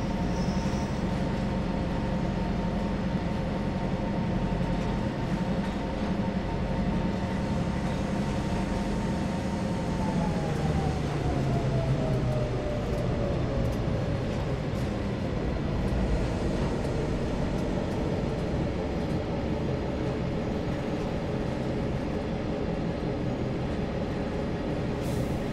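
A locomotive hauling a single wagon in Train Sim World 3 rumbles loudly and steadily throughout, its engine drone holding a pitch for a while and then sliding lower as the run continues.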